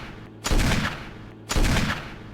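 Two booming Magnum revolver shots in Resident Evil (2002), each a loud, sharp blast about a second apart with a long rolling decay.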